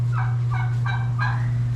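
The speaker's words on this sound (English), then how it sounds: "that one is my meat bird" A backyard meat bird, a fowl kept for butchering, calls in four repeated gobbling bursts at an even pace, close and clear over a steady low hum.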